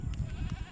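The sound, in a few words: goats bleating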